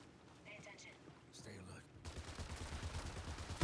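Gunfire in the Marathon PvP shooter: a rapid burst of shots from about two seconds in, loud and close with a dense rattling texture, following quieter game sounds at the start.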